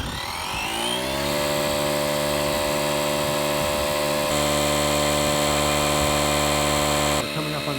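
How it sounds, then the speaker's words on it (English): Tire inflator pumping air into a tire: a motor spins up within the first second and then holds a loud, steady buzzing drone with a pulsing rhythm, shifting pitch slightly partway through, running continuously to the end. "I'm going to pump it up to 40."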